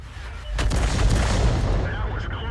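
An artillery shell is fired from an M53/M55 self-propelled gun in World of Tanks. A loud, close, deep boom rolls into a long rumbling blast with crackling debris that fills the whole moment.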